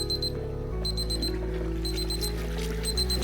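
A thermometer alarm beeps to signal that a deep-fried turkey has reached its internal temperature. Repeated high electronic beeps in steady bursts sound over a constant low hum from the fryer setup.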